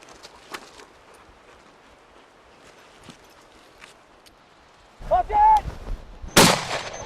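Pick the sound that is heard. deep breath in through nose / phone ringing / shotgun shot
shotgun shot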